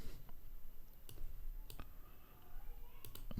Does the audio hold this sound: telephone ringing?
no